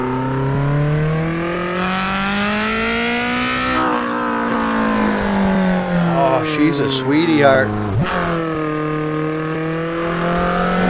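A modded car engine revs and holds a steady, rising drone with a sharp throttle blip near the end, heard close while someone talks over it.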